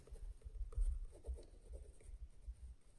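Pen writing out the terms of an arithmetic progression on paper, a soft, close, continuous scratching with small uneven strokes.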